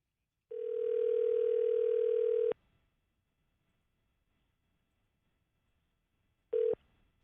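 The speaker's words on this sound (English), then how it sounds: "I'll dial her up." A radio-show call going out: a steady dial tone holds for about two seconds and cuts off, followed after a silent gap by a brief second tone burst.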